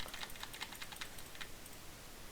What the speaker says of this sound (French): on entend mes bruits de clavier